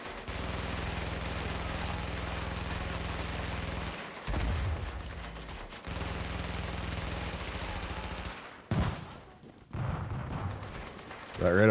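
Sustained rapid automatic gunfire in The Division, loud and dense bursts with brief pauses between volleys, close and continuous.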